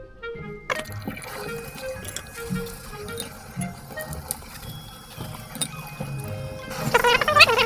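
A stained shirt is scrubbed by hand in water with detergent, giving close, uneven splashing and sloshing with small knocks and drips, busier toward the end.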